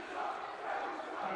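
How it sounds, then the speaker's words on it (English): A high school basketball crowd at a Corner Canyon vs. Lone Peak boys game roars in protest of a call, a dense, sustained wash of shouting and booing throughout a brief moment. "And the Corner Canyon crowd letting them know."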